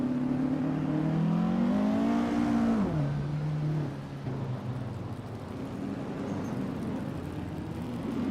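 Classic Indy car in a racing video game, a loud droning engine tone that rises and falls with a gear change, sustained close with no talk.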